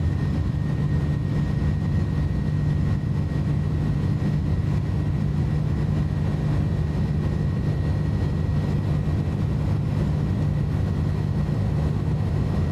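Airbus A310-300 jet engines at takeoff thrust during the takeoff roll make a steady, loud low roar with a constant hum and a thin high tone, unbroken throughout.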